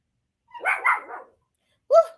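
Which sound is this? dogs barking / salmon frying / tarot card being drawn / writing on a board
dogs barking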